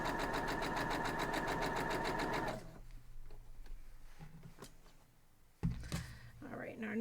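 A sewing machine stitches across a quilt block in a fast, steady mechanical whir for about two and a half seconds, then stops, leaving quiet handling noises and a soft voice.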